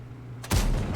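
A tank's main gun fires once in a tank video game, a sudden loud boom about halfway through a quiet stretch, followed by a rumbling low tail.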